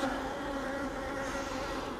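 Agitated honeybees buzz inside an opened hive, a steady, dense, close drone that never lets up, with no voices over it.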